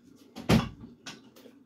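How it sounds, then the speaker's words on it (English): A room door swung shut once, a single close thump with a short rattle, followed by softer handling knocks; no voices. "Sorry, I had to close my door"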